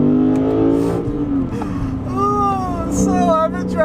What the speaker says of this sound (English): have a blast just listening to this beautiful V8 for an entire week